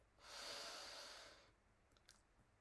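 One slow, deep breath drawn in through the nose during a calming EFT tapping exercise: a soft, close, airy inhale lasting over a second that fades out, followed by a few faint small sounds in a very quiet room.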